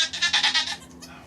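A calm, gentle nanny goat named Cami gives a short run of close, pulsing bleats over about a second, each wavering note loud and bright before trailing off into quiet.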